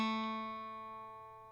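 A single guitar note played with the first finger on the second fret of the third string, sustaining cleanly and decaying slowly on its own.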